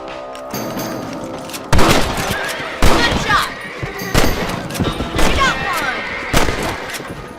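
Rifle shots ring out at rabbits in the Red Dead Redemption video game, several loud sharp cracks spaced a second or so apart, each with a booming tail, over faint game ambience.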